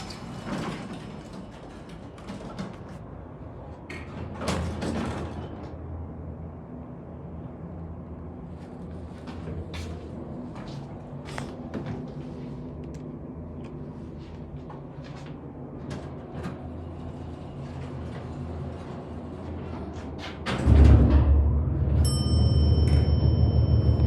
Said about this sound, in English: This used to be a Haughton elevator,